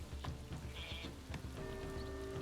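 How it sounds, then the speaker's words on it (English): A sheep in the Northgard video game gives a short bleat, then a longer one with a sustained tone, over a faint, soft background patter and no voices. "Sheep are loving life"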